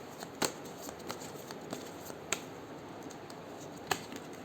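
A deck of Osho tarot cards being shuffled by hand, with scattered crisp card flicks and slaps over a soft continuous rustle, close and fairly quiet, no talking.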